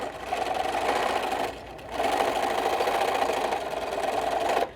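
A sewing machine runs steadily along the edge of a fabric microwave potato bag, a continuous whirring hum that pauses briefly mid-seam and then resumes at the same even pace before stopping.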